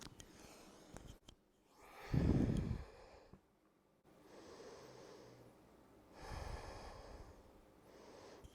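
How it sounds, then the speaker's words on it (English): Slow deep breathing during a yoga class, long audible inhales and exhales in an unhurried rhythm with quiet pauses between, close and soft. "Slow the breath down."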